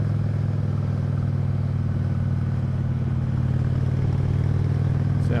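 Honda Shadow 750 cruiser with a Yoshimura aftermarket pipe idling after a cold start, a loud, steady low rumble with even throbbing pulses throughout and no speech.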